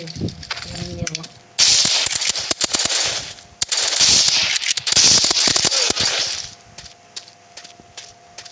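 Video game gunfire after switching weapons, loud rapid bursts of shots in two long volleys with scattered single cracks, mixed with someone talking.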